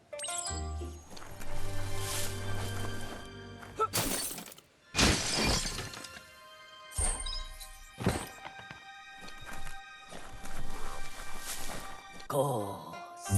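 A box is smashed in the video game Biomutant, giving several loud close crashes and splintering breaks separated by short silences, with rattling debris and some game ambience between the hits.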